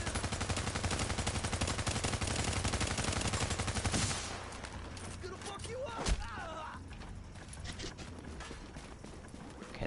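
Gunfire in The Division survival mode, a dense rapid burst of automatic shots filling the first stretch, then scattered sharper reports and game noise, loud and close, with a voice speaking over it.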